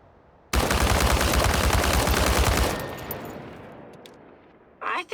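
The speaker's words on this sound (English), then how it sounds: "This exercise is about using full auto mode and emptying an entire magazine in one burst." A long, continuous full-auto burst from a rifle in the game Chernobylite, emptying a whole magazine. It fires loud and close for over two seconds, then a reverberant tail fades out, followed by a brief clatter at the end.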